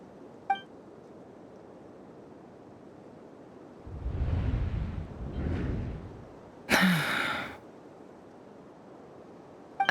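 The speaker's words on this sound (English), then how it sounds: "I heard Yehuda gasp" A character in the video game Genshin Impact lets out a breathy gasp and sigh, two soft swells of breath in near silence, followed by a sharp bright burst and a faint beep.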